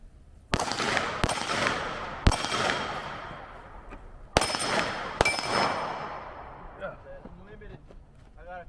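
Pistol shots from old carry ammo at a concealed-carry training day ring out loud and close in two quick strings of sharp cracks, each with a metallic ringing tail. Faint talk follows near the end.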